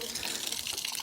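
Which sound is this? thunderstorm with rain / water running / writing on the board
water running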